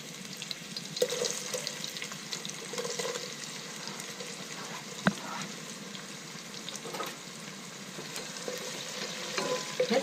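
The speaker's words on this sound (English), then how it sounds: "let's fry this until golden brown" Sliced onions and fennel seeds fry in a pan with a steady, soft sizzle and occasional stirring clatter, close and fairly quiet throughout with no talking.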